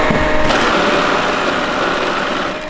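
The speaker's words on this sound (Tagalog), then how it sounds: "Oy, ito ang Rolex ng mga money counter pa." A Glory money counter machine runs at a loud, steady high-speed whir, close and continuous, with a fast mechanical flutter and no voices over it.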